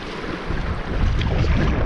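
Strong wind buffets the microphone while waves slosh against a pack raft on open water, a loud continuous rushing roar that builds slightly toward the end, with no voices.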